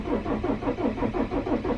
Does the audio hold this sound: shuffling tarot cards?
no